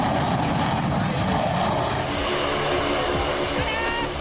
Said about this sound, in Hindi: आसमान को चीरते हुए तेज गर्जना के साथ C-130 सुपर हरक्यूलिस विमान और फिर एक फाइटर प्लेन ने पूर्वांचल एक्सप्रेसवे पर लैंड किया।